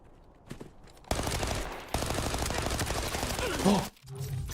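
Automatic gunfire in the shooter Arena Breakout: Infinite: a sustained rapid burst of shots lasting nearly three seconds, preceded by a few faint shots and ending abruptly before quieter sounds.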